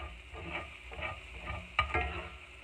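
Finely cut onions sizzle and soften in a pan for a salmon and shrimp cream sauce, a low steady hiss with soft stirring scrapes and a sharper clink near the middle, no talking.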